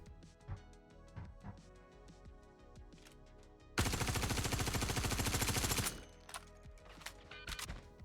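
A Drake Vulture spaceship in a video game fires a loud two-second burst of rapid automatic gunfire. Scattered quieter clicks and thuds come before it, and a few sharp shots follow afterward.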